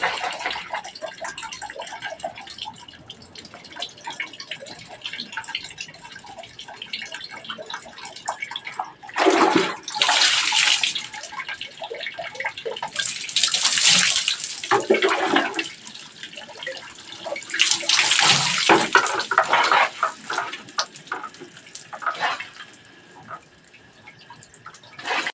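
Water runs during a shower or bath, with gushing spells and splashing that rise and fall over a quieter dripping background, close and without any talking.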